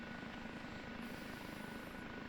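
An OH-58D Kiowa Warrior helicopter lifts off in the DCS simulator, giving a steady, dense rotor and turbine roar. The roar is loud and continuous with no pauses.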